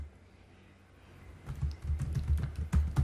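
Rapid typing on a computer keyboard begins after a quiet second and a half, a close, steady clatter of keystrokes with a few louder taps, no voice.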